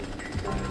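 An enemy's drill in the Jak and Daxter video game gives off a dense, rough mechanical rattle that holds steady through the moment and rises slightly toward the end.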